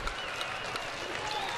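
A baseball crowd applauds steadily after a base hit, a dense, even wash of clapping and cheering heard from a distance, with no pauses.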